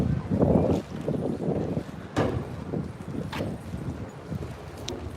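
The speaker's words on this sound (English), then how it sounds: "I know this wind is going to be terrible." Heavy wind buffeting a handheld microphone on an outdoor walking tour through Lower Manhattan, New York City, a continuous low rumbling roar with gusty surges and occasional sharp bursts.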